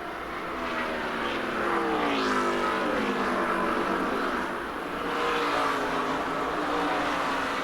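NASCAR race cars lap the track at the 2002 Monte Carlo 400, a continuous loud engine roar whose pitch wavers and shifts as the cars pass, with no voices over it.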